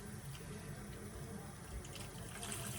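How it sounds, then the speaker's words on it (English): Cold water pouring into a container packed with evergreen greenery, a faint steady trickle and splash running throughout without talking. "I fill it up with water on the sides"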